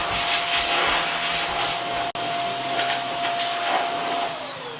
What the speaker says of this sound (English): let me just come over here so I can blow off the excess